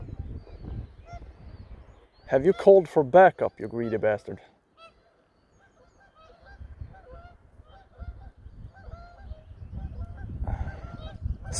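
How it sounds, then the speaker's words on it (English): Canada goose honking at a small pond, a burst of loud, close calls early on, then fainter honks later, with someone talking over the birds. "And here comes the Canada goose."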